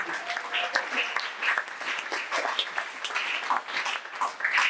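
A church congregation applauds in a steady wash of clapping that rises and falls slightly, with scattered cheers and voices mixed in.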